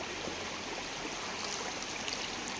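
River water flowing steadily in a Javanese village stream where locals pan for gold, a continuous broadband rushing with faint trickles, even and unbroken throughout.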